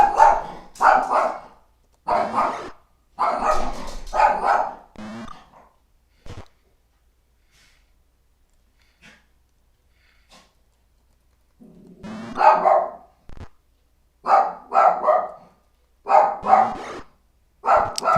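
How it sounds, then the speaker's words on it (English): A dog barks in bursts of rapid, loud barks, breaks off into near silence for several seconds, then starts barking again in a series of sharp yaps. "That's when my dog's going crazy"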